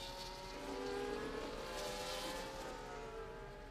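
Several race cars from the F1 24 video game roar through the Baku street circuit, a steady, loud layered engine whine with shifting pitches as cars run close together, no voices.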